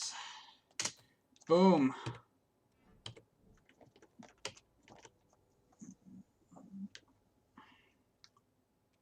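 A computer keyboard clicks in scattered bursts of taps and keystrokes at close range. A brief spoken word cuts in near the start.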